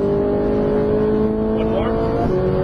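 A Ferrari 458 Italia engine drones steadily at full throttle, its pitch sliding through an upshift near the end, loud and close throughout.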